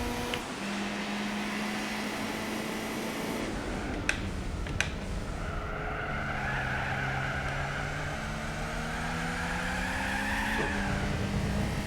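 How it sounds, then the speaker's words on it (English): Wheel spin from a turbocharged car held in third gear in Gran Turismo 4, with a sustained engine drone and whining tire squeal that rises and shifts in pitch, broken by a couple of sharp clicks midway. "Even in thirds, the wheel spin"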